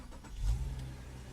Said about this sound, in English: When we kick the engine into life, you'll be able to see just exactly how this lights up.